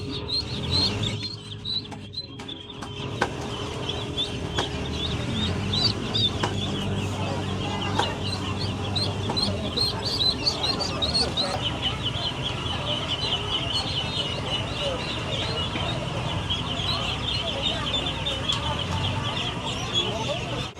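Busy Vietnamese market stall, where small chirping calls mix with clucking poultry and steady crowd chatter, a dense layer of high peeps running throughout.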